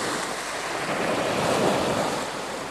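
Sea waves washing in a broad, steady roar with a gentle swell in the middle, mixed with wind rushing across the microphone, no voices.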